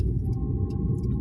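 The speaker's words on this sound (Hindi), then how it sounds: "चलिए सर जी अपना गाड़ी चलाते हैं" Car interior while driving, with a steady low engine and road rumble throughout, close and continuous with no talk.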